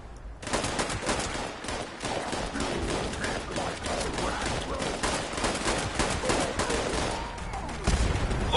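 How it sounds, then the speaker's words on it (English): Enemy gunfire in Fallout 76 crackles in rapid, overlapping bursts, a loud, near-constant volley that starts abruptly and runs throughout, ending with a heavier thump. "Enemy fire!"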